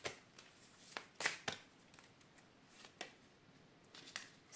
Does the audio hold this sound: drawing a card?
yes